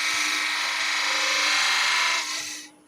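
A spindle turning on a wood lathe is cut with a gouge, a steady loud hiss and rasp with a faint motor hum underneath, tapering off near the end as the tool lifts away.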